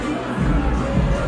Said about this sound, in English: sending this jubilant crowd into absolute raptures inside this arena